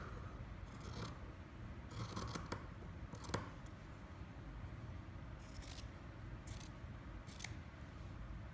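Scissors snip through fabric around a pin cushion shape in a series of close, crisp cuts, grouped in short bursts with pauses between them, over a quiet room hum.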